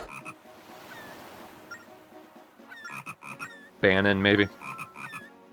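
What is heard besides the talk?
frog croaking in the video game Phantom Hourglass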